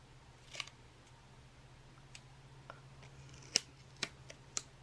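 Scissors snip through folded paper in a few sharp, separate cuts that are faint and close, with a quiet steady hum underneath.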